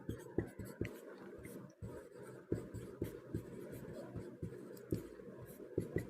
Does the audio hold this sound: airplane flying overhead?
no